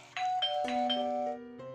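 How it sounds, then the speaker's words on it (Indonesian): A film's house doorbell chimes in a clear, close ding-dong pattern, several bright tones ringing out one after another alone with no talk. "tiba-tiba bel rumahnya berbunyi."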